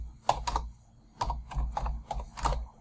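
Someone types a name and address on a computer keyboard: quick irregular bursts of close, crisp key clicks with short pauses between groups.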